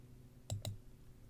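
Two quick computer mouse clicks on an Upload button, crisp and close, spaced a fraction of a second apart over a quiet room.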